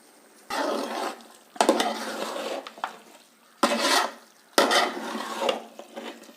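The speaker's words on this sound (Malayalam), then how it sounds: "ഇറക്കാൻ സമയമായപ്പോൾ നമുക്ക് ഒരല്പം കറിവേപ്പില കൂടെ ഇട്ടിട്ട് ഒന്ന് നന്നായിട്ട് മറിച്ചിട്ടിറക്കാം" Country chicken curry with curry leaves stirred in a pan, four bursts of scraping and clinking from a spoon against the metal, separated by short pauses, with faint sizzling underneath and no talking.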